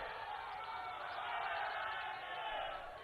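A large crowd at a political rally fills the air with a dense, steady roar of many voices, loud and continuous with a slight swell midway.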